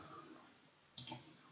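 A couple of quick, close mouse clicks on a computer tab, two sharp taps over a low background hum with no talking.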